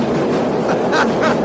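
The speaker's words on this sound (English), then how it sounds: "Hold on, this train going by." A train rolls past close by, a steady loud rumble with rhythmic rail clatter running throughout.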